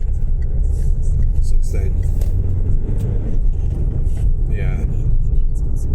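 Steady low road rumble inside a car cruising on a Scottish motorway, the engine and tyre noise continuous and loud beneath people talking.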